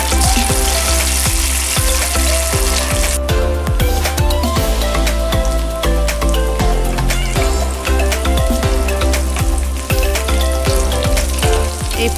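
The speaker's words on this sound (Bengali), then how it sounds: "এই যে আমি একে একে সবগুলা ভেজে নিব।" Masoor lentil and egg fritters fry in hot oil, giving a loud, continuous crackling sizzle with dense popping throughout and no voices.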